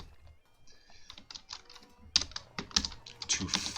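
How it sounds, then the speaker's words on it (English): Rapid keyboard typing, a quick run of light clicks and clacks that starts quiet and turns louder and denser partway through, heard on its own close to the mic. "Damn you typing."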